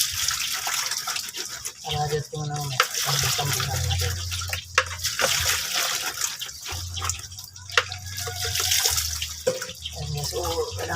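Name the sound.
washing vegetables under running tap water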